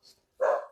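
A spaniel gives a single short, close bark after a faint brief yip, with no talking.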